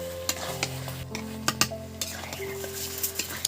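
A spoon stirs fried pointed gourd and potato into a sizzling prawn gravy in a pan, giving repeated close scrapes and clinks against the metal over a soft, steady frying hiss.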